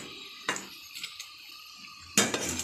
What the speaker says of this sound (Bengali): তো মাছগুলি দিয়ে দিই